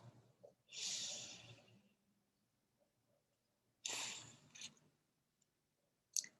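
Two deep breaths in a quiet room during a guided tapping meditation, each a long soft inhale-exhale rush, the second followed by a short puff and a faint click near the end.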